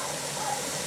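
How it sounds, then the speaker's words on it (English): Steam vents steadily from a Presto pressure canner full of tomatoes on a burner turned wide open, a continuous close hiss holding at an even level for a brief moment. "right now we are in the blowing off steam phase"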